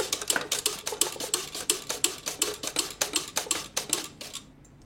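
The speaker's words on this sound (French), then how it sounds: "La mandoline, c'est très pratique, mais il faut faire attention aux doigts" Potatoes sliced on a mandoline, a quick regular run of sharp scraping clacks, about twenty strokes close up, then stopping abruptly, with no talk.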